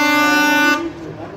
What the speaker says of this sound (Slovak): Takú ostrú húkačku.